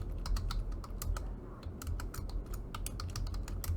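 Rapid, steady keystrokes on a computer keyboard while code is entered, close and clear, with irregular bursts of clicks over a low background hum and no talking.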